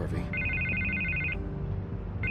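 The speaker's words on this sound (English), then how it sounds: "I can't get the phone to stop ringing" A telephone bell rings in repeated bursts, a bright trilling electronic ring that cuts in and out over a low background, fairly close and prominent, with a brief voice at the start.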